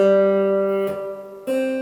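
Open G string plucked once on a guitar, a sustained ringing tone that decays, briefly disturbed by a soft noise, then sounding again clearly near the end.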